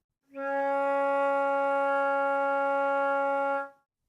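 A flute sounds a single sustained C sharp in the first octave, one steady note with a rich stack of overtones held for about three seconds, clear and close with no talking.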